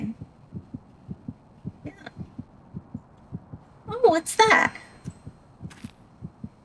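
A steady, low, rhythmic heartbeat thumps throughout a dark forest horror game, evenly paced and fairly soft, while someone speaks briefly over it partway through.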